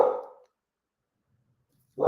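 A dog named Diesel barks twice, close and loud, with the second bark cut off at the end and a stretch of silence between the barks.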